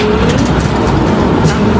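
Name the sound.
tram number 21 departing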